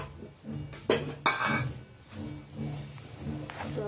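A spatula clinks and scrapes against a pan while sev is roasted together with cashews and almonds. The taps are light and scattered and come in a few sharper clusters, with faint kitchen hum underneath.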